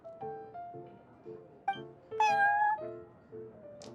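Prince the cat meows repeatedly in the Genius Invokation TCG card game, a series of short close meows with one longer, louder drawn-out cry near the middle, over a soft background tune.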